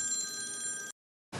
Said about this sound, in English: Sorry, Chris can't answer the phone right now.